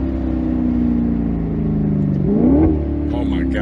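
A 2015 Maserati GranCabrio convertible engine hums steadily, then revs up with a rising pitch and drops back, heard close and fairly loud with faint talk near the end.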